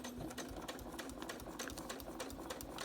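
A sewing machine stitches along a marked line on a paper pieced flower, its needle clattering in a rapid, even rhythm of ticks over a low motor hum, close and continuous.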